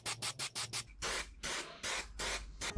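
Short repeated spray bursts of fresh oil onto a new K&N air filter, a quick run of five hisses followed by longer, spaced sprays, close and clear with no talk.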